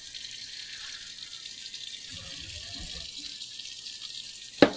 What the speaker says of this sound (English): So we're going to go ahead and drain the grease and the water and stuff from the burger.